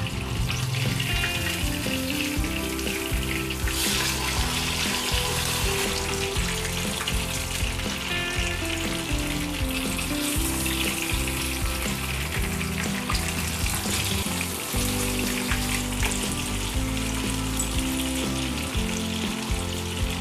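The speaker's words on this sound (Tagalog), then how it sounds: "Iprito na natin yung ating pampano. Takpan natin dahil tumatalsik yung mantika." Pompano fish fry in hot oil in a covered pan, giving a steady, dense sizzle with spattering crackle that runs the whole time without talk.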